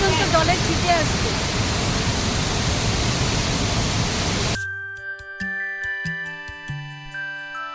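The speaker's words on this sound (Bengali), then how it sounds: "খরস্রোতা হয়ে জলটা পড়ছে, অসাধারণ। জলে ছিটে আসছে" Fast-flowing waterfall in Keonjhar, Odisha, splashing with a dense, loud roar for about four and a half seconds before cutting abruptly to a quieter stretch of sparse tones.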